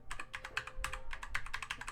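Fast typing on a Keychron K2 v2 mechanical keyboard with red switches, a close, quick run of light clacks at an uneven rhythm, each keystroke distinct and fairly soft.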